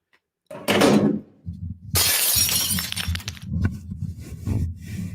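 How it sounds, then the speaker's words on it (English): Glass shatters with a bright, loud crash, preceded by a heavy thud and followed by scattered tinkling shards and low knocks. "That's why we break glass in the beginning of these videos."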